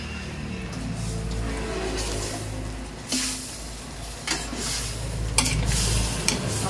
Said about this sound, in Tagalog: Haluin natin ulit.